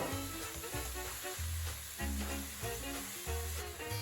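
Mushrooms and garlic sizzle and hiss steadily in a hot frying pan, with occasional stirring scrapes, loud and close, and no talking.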